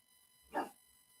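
A single dog bark, brief and moderately loud, rising out of a quiet background and fading quickly.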